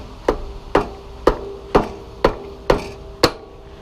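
A hammer persuader strikes an Allen key set in an oil drain plug on a Triumph Rocket III touring bevel box, giving seven sharp metallic knocks at an even, steady pace. The blows are close and loud, each leaving a short ringing tail, with no talk.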